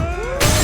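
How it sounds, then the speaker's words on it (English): A glass table shatters as a man is slammed through it during a brutal fight: sustained musical tones give way to a sudden loud, bright crash of breaking glass that fills the final moments. "In-suk slammed Gi Jun through a glass table and moved in for the kill."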